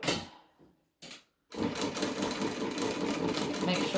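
A sewing machine starts in two short bursts, then runs in a fast, steady, close rattling whir while back stitching the edges of a large bag.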